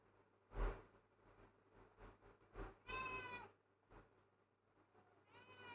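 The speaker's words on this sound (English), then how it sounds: "Arsenal, you just asked to be let in and now you want to go out? Oh my god, cats." A pet cat named Arsenal meows to be let out, two drawn-out, rising meows roughly two seconds apart, near and fairly loud, with a few soft knocks and rustles in between.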